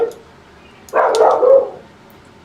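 A dog barks in a short, close burst of a few yelping barks, standing out against an otherwise quiet room.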